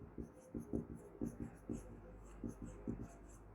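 Marker or chalk strokes on a board in short repeated bursts, fairly quiet over a steady low background hum, with a rhythmic pattern of quick scratches and pauses.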